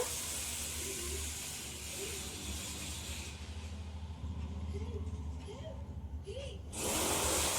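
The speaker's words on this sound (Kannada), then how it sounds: "ನೋಡಿ, ಈಗ ಕುದಿ ಬರ್ತಾ ಇದೆ" Oil heating toward a boil in a pan for frying garlic bajji, a steady close hiss with faint bubbling that brightens sharply near the end.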